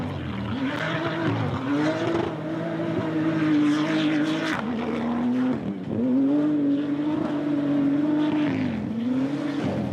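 Rally raid cars drive flat out on a special stage in Portugal, engines roaring and shifting pitch as they pass close by, loud and continuous with rising and falling revs, no talking.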